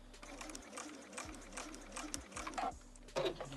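A domestic sewing machine stitches fabric scraps around a tote corner, its steady whir running at close range with small clicks and shifts as the needle stays down and the work pivots.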